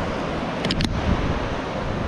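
Surf washing onto a sandy beach, heard as a steady broad rush of breaking waves with wind noise on the microphone and a brief brighter splash partway through.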